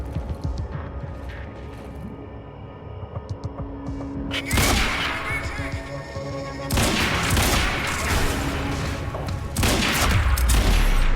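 Rifle gunfire in the video game Quantum Break comes as sparse shots at first, then erupts into loud, sustained bursts of rapid fire with booming impacts over a low mechanical hum.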